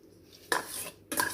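A spoon clinks and scrapes in a bowl while curd, onion pieces and salt are mixed, two short bursts of close metallic stirring separated by a brief pause.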